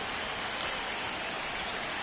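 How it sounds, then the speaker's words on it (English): Steady rain falls on a ballpark in the baseball video game MLB The Show 26, a dense, even hiss with no breaks and no talk. "This rain is not letting up."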